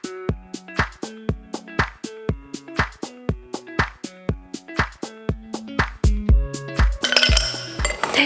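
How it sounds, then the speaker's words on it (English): Ice cubes drop one by one into cocktail glasses in a quick run of bright, close clinks and rattles, ending in a denser clatter, with no talk. "Let's begin with ice."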